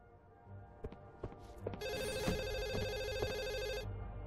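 An in-game telephone rings in the video game The Assembly, a loud electronic ringing tone sustained for about two seconds after a few soft footsteps and knocks, with no speech.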